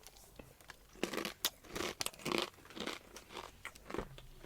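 Crunchy smoky barbecue Grey's Crunch corn chips and peas being chewed up close, a string of loud brittle crunches and bites in an irregular rhythm, with no talking.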